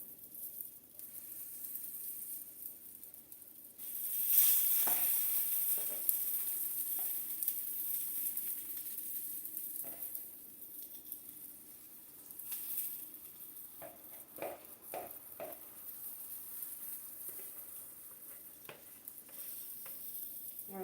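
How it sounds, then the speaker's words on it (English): Pancake batter frying in a buttered pan in a home kitchen makes a steady close sizzle that swells as the batter lands, with occasional light scrapes and taps over it. "So now I'm going to go ahead and drop my pancake batter into the pan."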